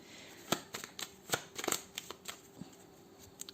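Playing cards being cut and riffled for a tarot-style card reading, a run of crisp close snaps and soft flutters in irregular bursts, with no talking.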